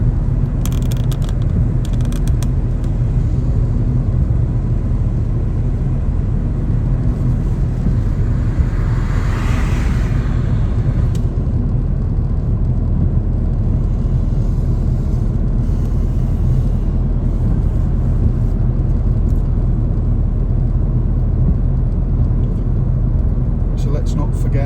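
Car cruising steadily in fifth gear at about 38 mph on a road, with a constant low engine drone and road rumble throughout.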